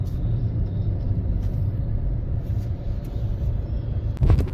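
Steady low road rumble of cars and buses idling and creeping in a queue at a manual highway toll plaza in India, continuous and close, with a brief louder vehicle pass near the end and no talk.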